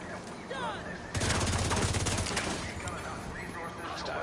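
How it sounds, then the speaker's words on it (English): Rapid sniper turret gunfire erupts in a video game amid a dust storm, a dense burst of loud automatic shots for about a second before thinning into scattered cracks over a busy background. "Hostile sniper turret."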